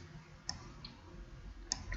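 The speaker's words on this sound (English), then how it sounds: "go to the last cell, hold Shift, click on it" Crisp computer mouse clicks while a spreadsheet cell is shift-selected in Stata: a few sparse, quiet ticks spaced apart against a low background rumble, with no voice.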